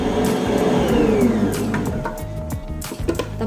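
An electric mixer churns pumpkin comb bread dough, its motor whirring loudly and steadily up close, with the pitch wavering slightly as the dough is worked and a few clunks near the end.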